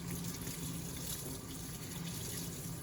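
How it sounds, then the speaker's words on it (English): Tap water runs steadily into a sink while bleach is rinsed from a tie-dye shirt. The gushing stream stays constant and fairly faint, with no pauses. "we're just rinsing out the extra bleach so that we're kind of slowing down the process"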